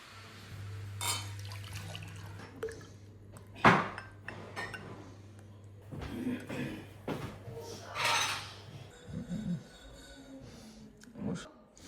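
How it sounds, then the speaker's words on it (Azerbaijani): Milk is poured into a pot of nearly cooked, simmering rice porridge already holding sugar and butter, with liquid splashing, a spoon clinking against cookware and a voice speaking over it. "İndi sütünü əlavə eləyirəm. Biraz belə qaynasın."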